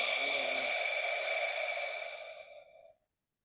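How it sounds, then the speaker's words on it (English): A Boabom breathing exercise: a long, steady breathy exhale pushed through rounded lips with the tongue dropped, lasting about three seconds and fading out at the end, close and alone. "and we exhale like this"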